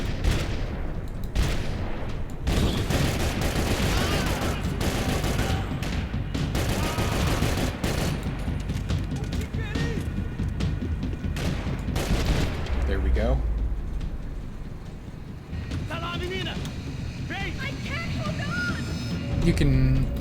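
Dense bursts of rapid gunfire from the Max Payne 3 video game go on almost without a break, loud and close, with heavy explosive booms and someone talking over the shooting.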